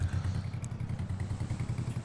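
A cold tractor engine in the video game Farming Simulator 22 chugs in a rough, evenly pulsing idle, steady and fairly quiet with no one talking.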